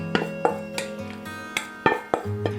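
Partially frozen mixed vegetables drop into a pot of buffalo stew as a series of separate hard clatters and knocks, roughly one every half second, close and fairly loud, with no talking.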